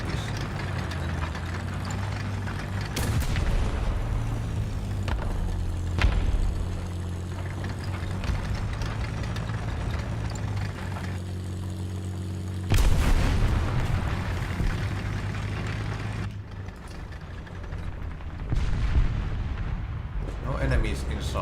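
Explosions and gunfire in the tank combat game War Thunder, with loud blasts rumbling over a continuous low battle drone and a voice talking throughout.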